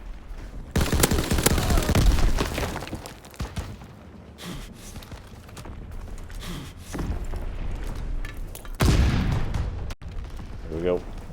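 Gunfire in Call of Duty: WWII: dense, loud bursts of shots and booms from a World War II firefight, easing off midway and then returning in a heavy volley, with a voice heard briefly near the end.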